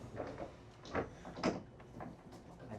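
A sliding door on a Fjord 41 XP boat rumbles and thuds as it is pushed back and forth, several scraping slides and knocks close by in a small cabin.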